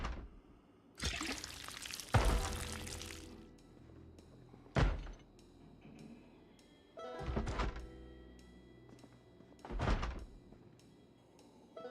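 Contents of a container dumped out in Project Zomboid, a long rushing spill followed by several heavy thumps and clattering knocks spaced a few seconds apart, close and fairly loud with no talking.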